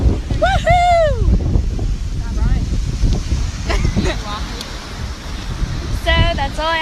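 Gusty wind buffets the microphone outdoors at a beach, a steady low rumble throughout, with a voice speaking and exclaiming over it.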